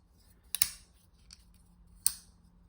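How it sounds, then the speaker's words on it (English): Two sharp, loud mechanical clicks about a second and a half apart from the VC Edge Interface V3 mechanism, close and crisp in a quiet room, with a faint tick between them. "there's kind of this loud click"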